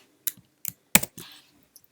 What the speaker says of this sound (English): Number 2 would be a keyboard shortcut, which is Command Option and S